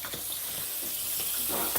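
Tap water running into a sink for soaking fruit and vegetables, a close steady splashing rush with faint clatter.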